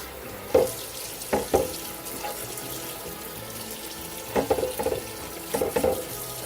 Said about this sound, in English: We're going to just put enough water in here to cover the meat up